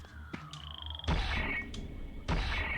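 A frog in the video game Soul Reaver 2 gives a few short croaking calls over ambient game sounds, with two louder bursts standing out near the end.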